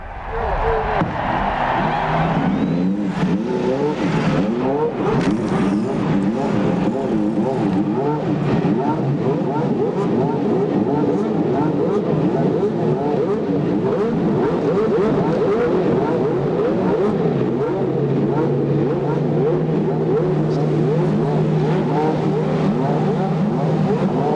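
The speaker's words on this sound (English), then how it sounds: "Engines are fired." Several 1996 CART IndyCar race car engines fire up and rev together on the starting grid at Michigan International Speedway, a dense, continuous roar of overlapping blipping throttles with crowd ambience, loud and sustained throughout.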